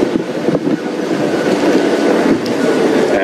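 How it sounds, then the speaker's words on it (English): A safari vehicle rolls over small trees and brush, giving a loud, continuous rough rumble with scraping, crackling branches and thumps against the undercarriage, close and unbroken throughout. "Many of the little trees that we either might move over the top of actually brush underneath the vehicle and then bounce back"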